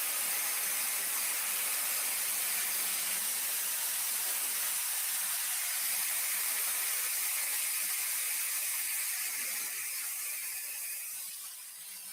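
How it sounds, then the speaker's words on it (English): A hair dryer blows cool air for a hair styling session, a steady loud broadband rush of airflow that holds for the whole stretch and eases off slightly at the end, with no talking. "I'm gonna go ahead and dry this with cool air"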